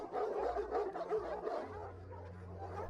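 Dogs from a stray dog army bark and yip in a film scene, a cluster of quick, fairly close barks with a low rumbling bed beneath, fading slightly toward the end.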